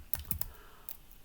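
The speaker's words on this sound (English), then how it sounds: "What I'm doing now, I'm typing here pragma omp parallel" Keys clatter on a computer keyboard as code is typed in a Linux terminal editor, with several quick close clicks in short bursts and no voices.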